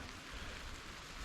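Steady, dense rain falls on a waterproof backpacking shelter on the Ice Age Trail, a constant soft hiss with low drumming patter, faint and unbroken throughout.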